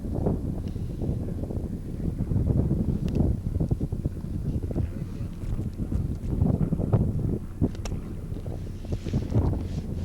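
Steady wind buffeting across an open golf course at a 1979 member-guest tournament, a continuous low rumble and microphone roar with gusts swelling and easing throughout.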